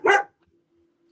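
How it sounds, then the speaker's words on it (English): A single short dog bark sounds close and loud at the start, then a faint low hum lingers in an otherwise quiet room. "my dog says hi"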